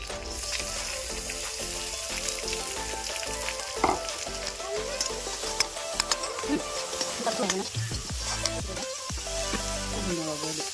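Chopped beans, carrot and onion stir-fry for fried rice with loud, continuous sizzling and frying, with frequent clattering stirs and scrapes of a spatula against the pan throughout.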